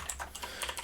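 Quick, light typing on a computer keyboard, a soft irregular patter of keystrokes close by and faint, with no voices.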